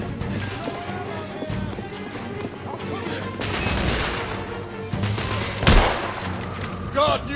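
Heavy gunfire rattles through a battle in The Order: 1886, with continuous volleys and sharp individual cracks among running footsteps and combat din, and a voice shouting over it.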